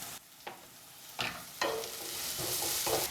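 Onions being sautéed on high flame for chilli veg Hakka noodles: a building sizzle punctuated by several sharp stirring scrapes, close and fairly loud, with no talking.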